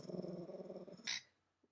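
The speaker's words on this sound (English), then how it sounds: "Why are you growling?" Small dog Grumpy gives a low, rumbling growl lasting about a second, close and fairly quiet, ending in a short whine and then near silence.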